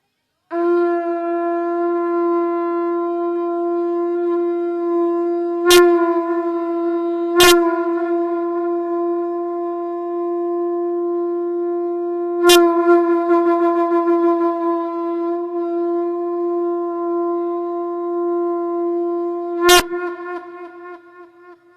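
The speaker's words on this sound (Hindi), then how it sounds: "अब फिर से शंख बजा दें।" A conch shell blown at a Hindu Satyanarayan katha: one long, steady, horn-like drone holding for about twenty seconds with a few sharp clicks, then fading out.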